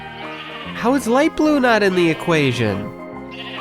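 Sheep bleating in the Minecraft video game, several wavering bleats in quick succession, loud and close, with a voice speaking briefly at the end.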